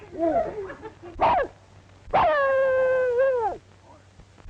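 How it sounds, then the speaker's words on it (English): A small dog in a 1936 film yelps briefly, then lets out a long, rising and falling whimpering howl, close and loud, before going quiet. "Look, Mary, a little dog."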